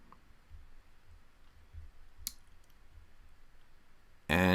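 Computer mouse clicks during work in Oracle E-Business Suite: a single sharp click mid-way, a few faint soft taps, and a louder burst of noise right at the end over a quiet room hum.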